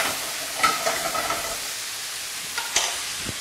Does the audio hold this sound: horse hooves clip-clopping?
no